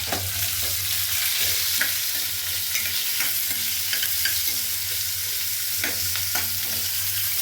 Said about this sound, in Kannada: ಇವಾಗ ನಾನು ಕಟ್ ಮಾಡ್ಕೊಂಡಿದ್ದಲ್ಲ ಒಂದು ಆನಿಯನ್ ಹಾಕ್ಕೊಳ್ತಾ ಇದ್ದೀನಿ